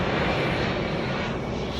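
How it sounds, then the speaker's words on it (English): Fixed-wing airplane passing overhead, a loud continuous broadband engine roar that holds steady throughout. "Oh my God, here's another plane."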